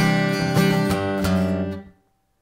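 Single notes are picked on a guitar's low E string, a few quick ringing plucks played close, fading out after about two seconds.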